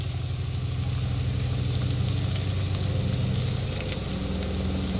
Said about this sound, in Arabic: يلا نشوح البصله بقى كويس كده